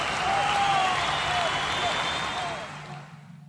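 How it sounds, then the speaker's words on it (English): Canned studio-audience applause and cheering for a variety-show game segment, a dense, loud wash of clapping with a few whoops that holds steady, then fades out near the end. "Cue the fake audience clapping and cheering and whatnot."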